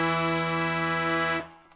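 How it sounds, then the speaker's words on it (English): An accordion holds a single sustained E note played from the E button, rich and reedy, steady and close for about a second and a half before stopping abruptly. "the E knob sounds like this"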